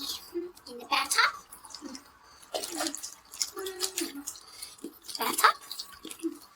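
Water sloshes and drips in a bathtub during a wash, coming in irregular bursts with quiet gaps, while a voice talks over parts of it.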